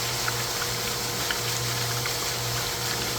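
Cloudy, algae-laden water gushing out of a pool pump hose, a steady broadband rushing and bubbling hiss that stays even throughout.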